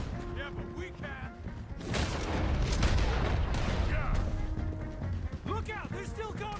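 Gunfire in Red Dead Redemption 2 during a chase, a loud burst of shots and crashing from about two seconds on over a busy game soundscape, with voices talking at the start and end.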